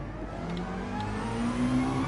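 A McLaren race car in Gran Turismo 7 drones steadily as its engine revs, the pitch climbing gradually, loud and close with no talking.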